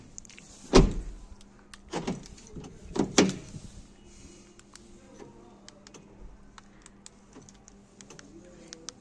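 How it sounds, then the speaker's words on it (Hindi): Central locking on a 2015 Honda Amaze cycling between lock and unlock: a few sharp mechanical clunks close by, spaced about a second apart, then a quiet stretch with faint ticks. "अनलॉक, लॉक, अब अनलॉक करते हैं"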